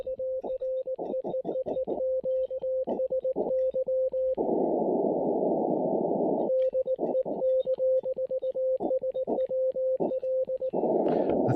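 An Elecraft KX3 transceiver pulls in Morse code on a crowded, noisy band at night, with a steady tone keyed in rapid dits and dahs, broken by two long bursts of harsh static, all loud and with no voices.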